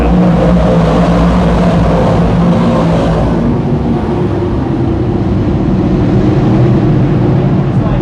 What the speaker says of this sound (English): DIRTcar 358 Modifieds are green at Can-Am.